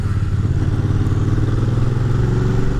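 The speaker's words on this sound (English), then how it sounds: "Look, third gear at 50 kph." Aprilia Caponord motorcycle cruising in third gear at 50 kph, a steady low engine drone with a throbbing rumble and faint mechanical clatter, close and continuous throughout.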